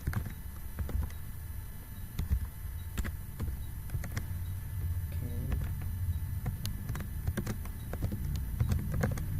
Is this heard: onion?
no